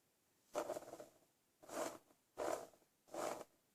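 A scoring tool pressed hard along cardstock for a Christmas ornament makes four separate short scraping strokes, close and fairly soft, with brief pauses between them.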